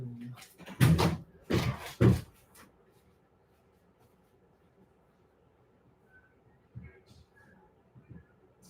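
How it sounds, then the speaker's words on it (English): A door opening indoors, heard as several close, sharp clunks and rattles of handle and frame in quick succession, followed by near silence and faint small knocks. "let me just open the door"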